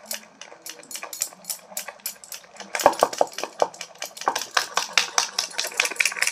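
A whisk beats gram flour batter for boondi in a bowl, giving rapid, rhythmic clicking and tapping strokes against the side that are close and busy and speed up partway through.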